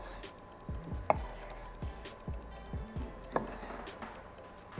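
A knife cuts vine tomatoes, stems removed, in half on a cutting board: several separate low thuds of the blade meeting the board, spaced irregularly over a few seconds, near and moderately loud with no talking.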